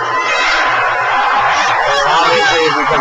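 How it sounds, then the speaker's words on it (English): Displeased fans at a men's college basketball game, Armstrong Atlantic against Columbus State, make a loud, continuous roar with jeers and shouts, while a commentator talks over it. "as you can probably hear from the crowd in the background, not too happy with the referees yet"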